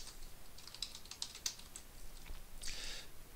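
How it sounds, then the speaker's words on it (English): Light clicking keystrokes on a computer keyboard while a command is entered, a quiet, irregular run of taps with a brief faster burst near the end, no talking. "now I type in the stat command"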